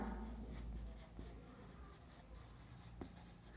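Chalk or marker scratching across a board during a chemistry lesson, a soft continuous scraping with a few sharper strokes, faint and close with no talking over it.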